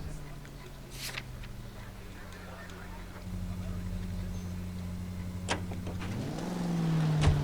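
Car in the video game L.A. Noire driving with a steady low engine hum that rises in pitch near the end as it accelerates, with a few sharp clicks along the way.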